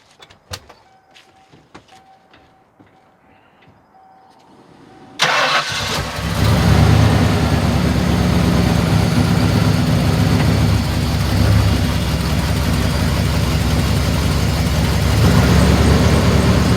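A vehicle engine turns over and catches after a few quiet clicks and creaks, then settles into a loud, steady idle that runs unbroken, close by, with no voices.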